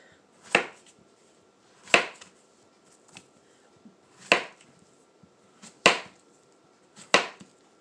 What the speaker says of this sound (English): now we're going to slice them up